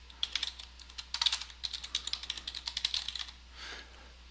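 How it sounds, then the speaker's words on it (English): Quick, uneven clatter of fingers on a computer keyboard, a close run of crisp keystrokes that pauses briefly and resumes, with no talking. "We're going to type in here in the description information about subordinate organizations."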